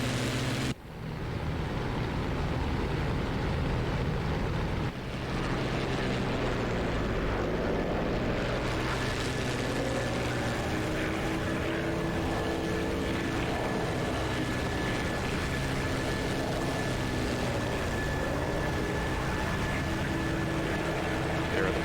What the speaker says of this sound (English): There are the bombers.